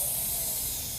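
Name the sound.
person exhaling forcefully, imitating a hissing cat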